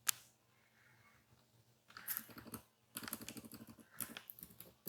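Computer keyboard keys clatter in quick, uneven bursts of close, crisp clicks, pausing briefly between words, with no talking.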